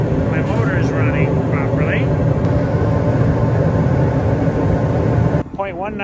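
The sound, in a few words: rooftop HVAC unit with burners and motor running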